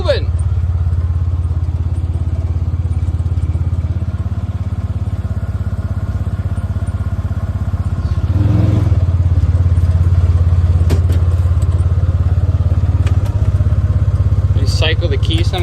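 A vehicle engine idling with a steady low rumble that runs throughout, loud and close. It rises slightly partway through, with a few faint clanks and thumps.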